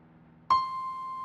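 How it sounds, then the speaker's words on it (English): One high C note struck once after a brief quiet moment, a clean pure tone that sustains steadily to the end; moderately loud, heard alone without talk. "the real money note, the one that most folks love to hear, is called high C. And it sounds like this"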